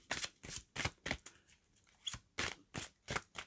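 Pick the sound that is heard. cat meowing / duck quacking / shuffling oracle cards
shuffling oracle cards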